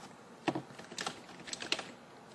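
A computer keyboard being typed on while renaming a file, a few quick clusters of soft key clicks with short pauses between, close and quiet.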